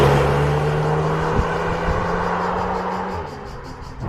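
Audi SQ2 S Tronic quattro with 300 hp accelerating, a deep engine rumble with a rising drone and a gear-change dip, heard close from inside the car and fading slightly near the end.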